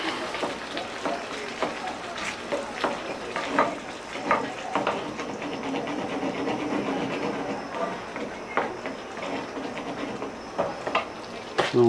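A spoon working through Korean-style BBQ sauce as chili garlic sauce is mixed in, with repeated scraping and sloshing strokes close by, interrupted by brief talking.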